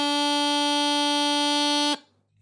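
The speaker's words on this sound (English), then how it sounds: "D is going to be all the fingers up except for the pinky on the bottom and should sound like this." A single sustained D note on a bagpipe chanter, played with all fingers lifted except the bottom pinky, rings loud, reedy and unwavering for about two seconds, then ends abruptly, leaving faint low background sound.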